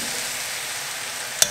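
Pasta and peas sizzling in butter in a pan, a steady broadband fry hiss with one brief sharp clatter near the end, no voices.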